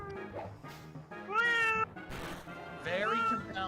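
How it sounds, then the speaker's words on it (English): A pet cat meows repeatedly in drawn-out, wavering cries, fairly close, with people talking in the background between and under the calls. "Mason's kitty cat has much to say"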